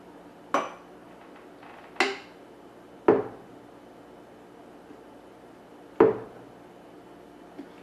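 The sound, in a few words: spooning a batch into a jar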